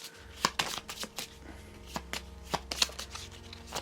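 A Marvel Champions card deck, Magneto's, being shuffled up close, with quiet riffling flicks and soft card slaps in an uneven rhythm.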